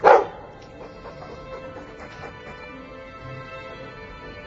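In the video game Dragon Age II, a dog gives one sharp, loud bark at the start, followed by soft whimpers and game ambience.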